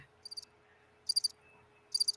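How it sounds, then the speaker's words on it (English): Crickets chirping as a sound effect, three short bursts of rapid high trills at an even spacing, crisp and clear over near silence. "I hear crickets."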